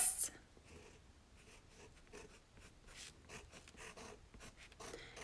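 A pen writes a word on a planner banner, with soft scratchy strokes in short bursts close by and a few light rustles between them.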